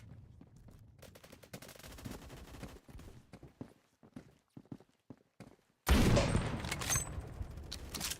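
Rapid gunfire in the video game Phantom Forces, shown as quick bursts of shots through a wall, some faint and some sharper, until a loud sustained blast of shooting and noise cuts in near the end.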